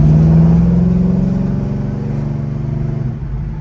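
A 1970 Chevelle SS with a 454 big block V8 and shift kit rumbles steadily while driving, a loud low engine drone that eases slightly in pitch and level near the end, heard from inside the car with no talk.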